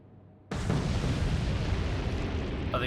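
A torpedo strikes a ship in the naval war game Atlantic Fleet, a sudden loud blast that breaks from near silence into a long, roaring rumble that fades slowly.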